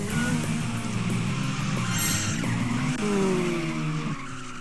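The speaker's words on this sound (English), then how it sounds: "I'm gonna do a little drift right here" Tires squeal steadily as a car drifts in the Tokyo Xtreme Racer video game, with the engine droning loudly underneath and a rising whine near the end before the sound drops off.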